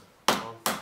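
Two sharp strikes of a rubber mallet on the lower legs of an SR Suntour Auron RC2 bicycle suspension fork, close and distinct, spaced under half a second apart in a quiet workshop.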